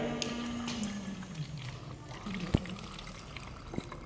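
Water pulled up from a borewell by a small submersible pump motor pours and trickles steadily, with faint background murmur and a couple of sharp knocks.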